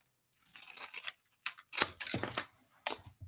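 Scissors snipping through a section of washi tape, several short crisp cuts and crinkly tearing sounds, close and quiet against near silence.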